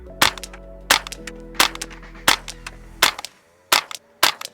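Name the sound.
10/22 rifle shots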